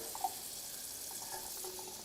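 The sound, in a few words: water running from an adjustable faucet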